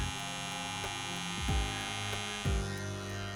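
Surker SK755 electric hair trimmer running steadily, a close mains-like hum with buzzing harmonics and a couple of brief pitch dips as the motor load shifts, quiet and alone.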